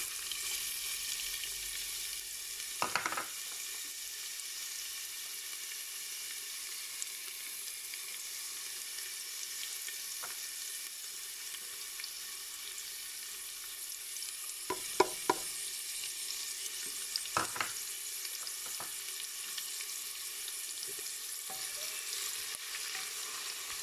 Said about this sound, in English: Once a little bit brown, add in onion